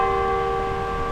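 Sustained ringing tone of a tower bell in Perth, a steady resonant hum with clear overtones, heard alone without voices.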